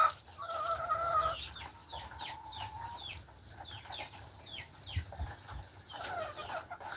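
Chickens cluck on a farm in Aklan with repeated short calls and chirps scattered throughout, fairly soft, over a low background rumble.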